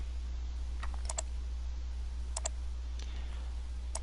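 Computer keyboard arrow keys pressed in short bursts of quick, crisp clicks, a few taps at a time with pauses between, close and clear over a steady low electrical hum.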